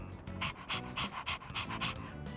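A dog in the video game Persona 3 Reload pants in a steady, quick rhythm of breathy puffs, close and continuous, with no talking.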